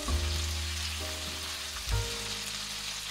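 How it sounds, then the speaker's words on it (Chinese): Broad beans stir-fried in a wok sizzle and crackle steadily. Two louder scraping tosses of the spatula sound close by over a background of sustained frying hiss. "炒到蚕豆外皮变得翠绿"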